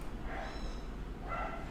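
A small dog barks twice, faint and somewhat distant, with a short pause between the two yips over a low background hum.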